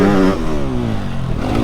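A motorcycle rides close by while a rider practises a jump approach. Its engine climbs in pitch as it speeds up, then holds a steady drone for under two seconds.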